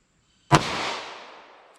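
A single sharp gunshot from a handgun firing .32 H&R Magnum or .38 Special +P hand loads at an outdoor range cracks loudly after a moment of quiet, then trails off in a long fading echo.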